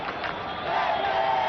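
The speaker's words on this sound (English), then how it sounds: "Crowd come alive as well here in Pune" A cricket crowd in Pune cheers during an Australia versus New Zealand one-day match, a broad roar of voices that swells and grows louder toward the end.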